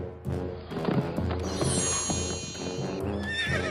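A horse whinnies loudly with a rising, trembling neigh while hooves clip-clop and thud beneath it, close and clear, with a ringing tone in the background.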